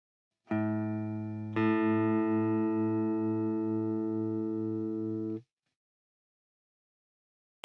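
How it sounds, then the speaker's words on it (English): A guitar's lower E string, detuned, is struck together with the open A string. The two notes sustain for several seconds with a steady wavering beat from the detuning, a second strike refreshes them, and then both are cut off into silence. "Now I detune the lower E string."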